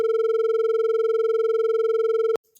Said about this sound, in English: So that should mean beats at the 20 Hertz.